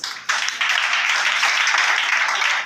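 A church congregation breaks into sustained clapping and applause after a sharp start, a dense, even wash of many hands that holds at steady volume to the end with no speech over it.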